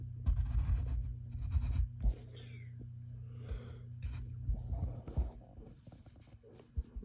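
A pencil sketches a cartoon chameleon's leg on paper, giving soft, close scratchy strokes in short bursts separated by quiet pauses, over a faint low steady hum.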